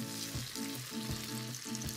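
Sausages frying in a pan, a soft steady sizzle under a low background hum with faint rhythmic thumps, quiet and close with no speech.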